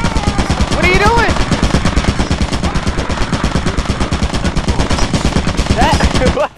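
Rapid automatic gunfire from a turret in the video game Lethal Company, loud and continuous bursts filling the whole stretch, with brief vocal exclamations faintly mixed in.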